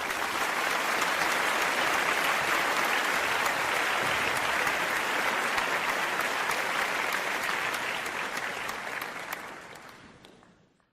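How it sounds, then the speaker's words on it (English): Audience applause at a Northwestern University talk, a dense sustained wash of clapping from a large crowd that holds steady for several seconds, then thins and fades out. "let's give her applause"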